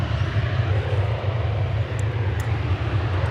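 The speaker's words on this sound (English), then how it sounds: "now we've got this new aircraft in our sights. There it is, JAL Flight 12 from Haneda Airport in Tokyo." A JAL Flight 12 airliner arrives from Tokyo Haneda at DFW Airport, heard as a steady low jet engine roar that holds even and fairly loud throughout, with no talking.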